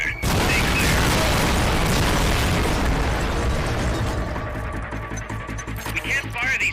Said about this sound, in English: They're about to commence the requested supporting fire.